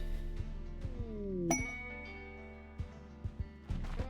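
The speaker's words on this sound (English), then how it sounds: "Look how many notifications we have." Notification chimes and clinks ring out repeatedly in the video game RimWorld, one bright ping standing out midway among several short tinkling dings over a steady game background.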